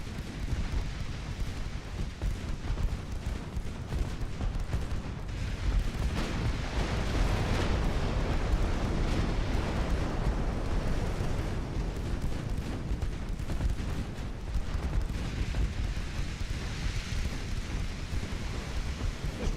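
Naval gunfire and shell hits in the warship battle game Ultimate Admiral Dreadnoughts, a steady dense rumble of booming cannon fire and impacts that carries on without letup, loud and continuous throughout.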